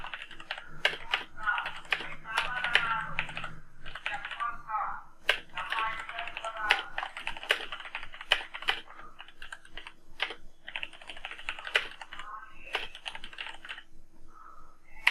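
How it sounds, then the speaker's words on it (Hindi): Fingers type on a computer keyboard in quick, irregular runs of crisp close clicks, with someone talking over the keystrokes throughout. "मैं शिफ्ट दबा के छोटे बड़े अक्षर लिखूंगा"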